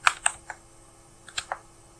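A few crisp computer keyboard keystrokes typed into a terminal, two quick taps, a pause, then a short cluster of three more clicks, close and quiet with no talking.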